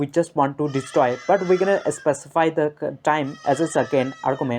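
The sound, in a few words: goats bleating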